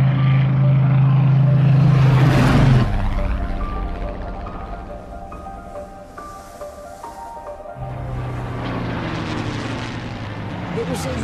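A Supermarine Spitfire flies at around 8,000 feet and 400 mph, its loud, steady engine drone rumbling first, then easing back and swelling again, with a voice speaking over it.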